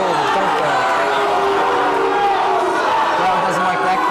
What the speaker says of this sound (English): Crowd doesn't like that call.